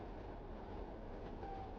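Train rolling along rails with a soft, steady rumble and faint rhythmic clatter, heard from inside at low volume with no talking.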